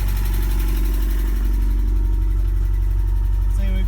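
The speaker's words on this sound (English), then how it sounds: "I've got it running now. The idle's a little bit high" A red 1984 Porsche 944 engine idling a little high, a loud, steady, close-up low rumble with even pulsing that holds constant throughout, with a brief voice near the end.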